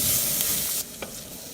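Leeks and carrots sautéing lightly in a pan with bacon fat, a bright close sizzle that drops in level partway through, with a brief stirring scrape.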